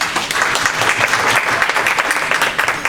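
An audience at a lecture on Holocaust film claps steadily to welcome a speaker, a dense, continuous round of applause filling the room without any voices.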